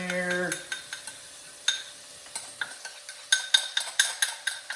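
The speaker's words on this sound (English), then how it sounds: "So, putting our butter and garlic in there." Butter and garlic going into a hot cast iron skillet, a soft sizzle under repeated metallic scrapes and clinks of a utensil stirring against the pan, close and fairly loud.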